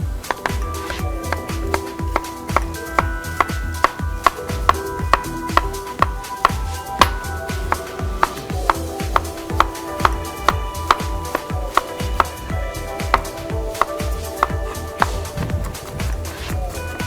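Onion chopped with a knife on a board while making fettuccine bolognese, a steady run of rapid, sharp blade taps close by over background music, continuing without pause throughout.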